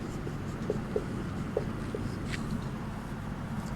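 Chalk tapping and scratching on a board during a Class VIII Sanskrit lesson, with soft, scattered ticks and strokes over a quiet room background.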